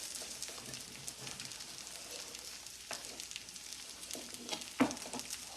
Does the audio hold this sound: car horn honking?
no